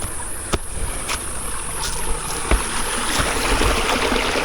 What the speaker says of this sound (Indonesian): ini dia saluran airnya teman-teman